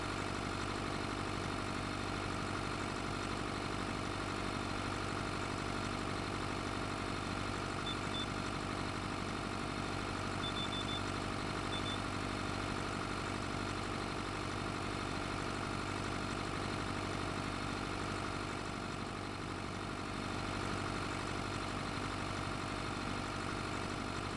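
A tractor engine idles in a farming video game, a steady unbroken low hum and drone that holds for over twenty seconds without variation or talk.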